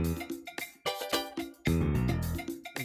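A small banjolele strummed and plucked, bright twangy chords in a quick rhythmic pattern with sharp attacks and short ringing decays, close and clear with no talk.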